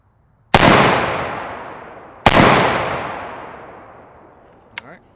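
Two loud unsuppressed 5.56 rifle shots from an LMT ION fired outdoors, each a sharp crack with a long decaying echo, about two seconds apart, followed by a faint metallic clink.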